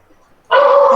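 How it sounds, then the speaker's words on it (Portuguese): A small dog lets out one sudden sustained bark or yelp halfway through, loud and close, after near silence. "Um cachorrinho latindo"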